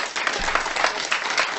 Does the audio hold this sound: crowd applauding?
yes